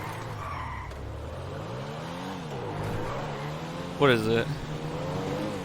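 Comet sports car in GTA 5 driving with a steady engine drone, the revs rising and falling, and a short, sharp tire squeal from a skid partway through, while someone talks over it.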